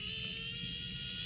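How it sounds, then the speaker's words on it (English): A handheld electric screwdriver runs in a steady, continuous high-pitched whir with an even level, close to the listener and with no pauses or voices. "We got our trusty screwdriver here, our electric screwdriver."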